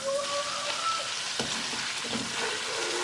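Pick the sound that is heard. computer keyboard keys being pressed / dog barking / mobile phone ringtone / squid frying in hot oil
squid frying in hot oil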